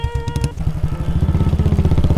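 A motorcycle starts off, beginning with a short high-pitched whine before the engine settles into a loud, close, steady chugging as it pulls away.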